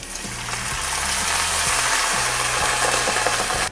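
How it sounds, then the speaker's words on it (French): White wine is poured into a pan of browned lardons and onions, which sizzle and fry loudly and steadily throughout. A low, regular ticking clatter underneath keeps time. "On va pouvoir y verser le mug de vin blanc."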